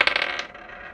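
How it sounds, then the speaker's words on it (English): Small dice rattle and clatter on a surface, a quick run of close, bright clicks that settles within a second. "So I'm going to roll this dice"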